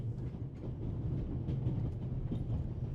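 Train running in the video game The Raven Remastered: a steady, low rumbling of rail travel with faint rhythmic clatter, continuous and moderately quiet, with no voices.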